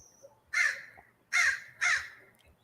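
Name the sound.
crow cawing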